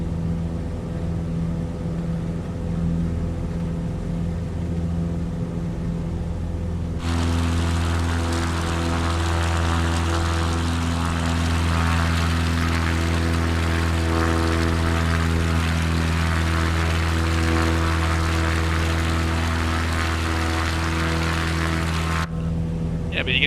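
A bush plane flies through instrument conditions, its propeller engine droning loud and steady with strong harmonic hum, starting quieter and swelling to a full roar that holds before easing near the end; speech is likely present under the engine noise.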